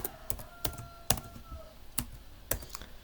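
A number typed on a computer keyboard: several sharp, separate key clicks at an uneven pace, close by and alone, with a faint hum underneath.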